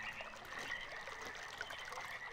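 Water flows continuously in the puzzle game Myst, a steady, even trickle and stream with no voices.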